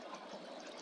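Water poured into scaffolding blocks in Minecraft, a steady soft trickling wash of flowing liquid, faint and continuous with no talk over it.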